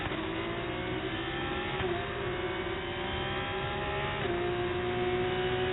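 A Formula 1 race car engine revs continuously in the F1 '24 video game at Monaco, a steady high-pitched whine with slight pitch dips, close and loud throughout.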